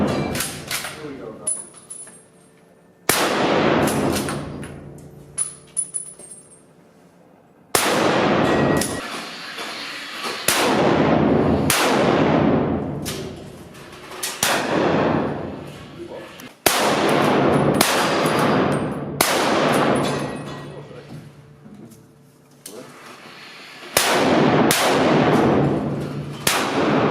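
Magnum rifle shots at a rifle shooting day crack out in a series of sharp, loud reports with ringing decays, spaced several seconds apart, while people talk throughout.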